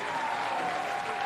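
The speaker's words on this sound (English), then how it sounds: "The crowd is getting louder." A high school football crowd at Chesterton High School roars and claps before the home team takes the field, a dense steady wash of noise with a faint sustained tone running through it.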